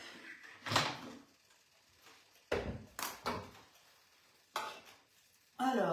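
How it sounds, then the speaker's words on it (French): Butter stirred in a bowl with a utensil, heard as several sharp scraping knocks against the bowl's side, spaced unevenly, close and fairly faint between strokes. "Alors, on va mélanger un petit peu le beurre, il s'était mis en bouboule."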